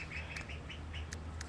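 Ducks in a backyard garden give a run of rough, nasal quacks at close range over a steady low outdoor hum, with a few sharp higher chirps breaking through near the end.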